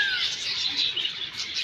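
Colourful parrots calling in Indroda Park, a dense stream of shrill, high chirps and squawks from several birds, fairly close and continuous.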